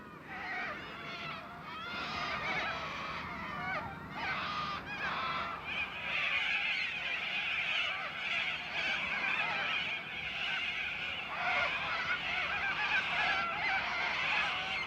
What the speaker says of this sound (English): the Corellas congregate during the heat of the day, drinking, resting, and endlessly squawking